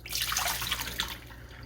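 Water running steadily from a new Whirlpool refrigerator water filter as it is flushed into a cup, a continuous close splashing stream with no talk.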